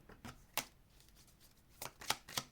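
Tarot cards are shuffled by hand in a few quick, crisp riffling bursts with short pauses between, close and fairly quiet.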